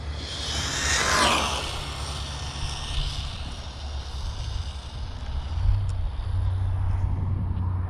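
A Rlaarlo X12S RC buggy at full throttle makes a high-pitched electric whine that rises sharply as it races past, then gives way to a quieter, steady background rumble.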